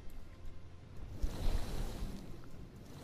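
A whooshing, surf-like rush of water swells and then holds steady in the Manta Ray mount's Inhale animation in Final Fantasy XIV, with no voices.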